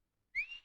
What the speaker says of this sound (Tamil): என்னத்த உங்க பொண்ணு உங்களை விசில் அடிச்சு கூப்பிடுது?